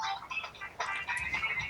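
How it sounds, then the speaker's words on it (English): A phone ringtone with a repeating tonal melody, played at a moderate level with no talking. "why is my phone ringing?"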